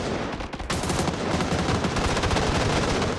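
Sustained rapid gunfire in a video game, dense loud bursts of automatic fire continuing throughout, with no talk.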